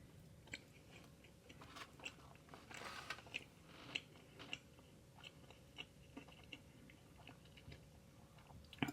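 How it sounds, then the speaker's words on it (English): Close, quiet chewing and biting of Chinese takeout food, with irregular small crunches and clicks of mastication and no talking. "This is really hard to chew."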